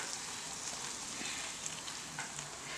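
Gongura (sorrel leaf) paste fries in hot oil in a pan, giving a steady, even sizzle and crackle that holds throughout with no voices.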